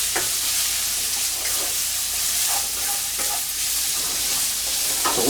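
Thinly sliced garlic fries in a pan, a steady bright sizzle with occasional stirring taps and clicks of a utensil, fairly close and without speech.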